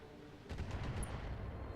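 Volley of five LRM 5 long-range missiles from BattleTech arriving as a quick burst of muffled, overlapping thuds and crackles, faint and distant, lasting about a second and a half after a quiet start.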